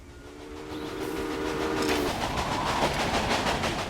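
Trains rolling past in the Railway Empire video game on Xbox One, a horn or whistle tone sounding first, then a steady rumble with rhythmic clickety-clack swelling and holding close by.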